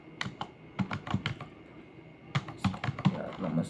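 Keystrokes on a computer keyboard typing out a Bash command, a rapid burst of sharp clicks followed by a pause and then a second burst, close and fairly quiet.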